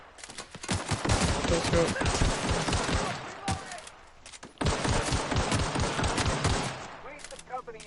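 Rapid bursts of video game gunfire, automatic fire in two long dense volleys separated by a short pause, loud and close, with a voice speaking briefly near the end.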